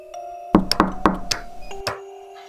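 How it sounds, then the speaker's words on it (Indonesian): A handful of sharp knocks on a bedroom door, five or six quick raps spaced a little unevenly, close and clear over a quiet, eerie backing tone. "pintu kamarnya diketuk dari luar"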